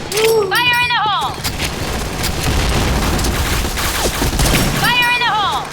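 Gunfire bursts and booming grenade blasts from a Garena online shooter game fill the whole stretch at loud, steady intensity, with a shouted voice rising over the din near the start and again near the end.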